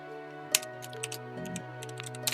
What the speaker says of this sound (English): As soon as I started typing it.